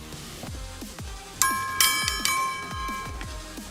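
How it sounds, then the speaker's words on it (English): A bright ringing gong-like chime in the fighting game Tekken, signalling an opponent's disconnect, struck a few times in quick succession over a backdrop of rhythmic thumping game sounds. "gong for disconnect"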